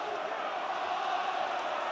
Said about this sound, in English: The crowd are baying for a penalty for Ulster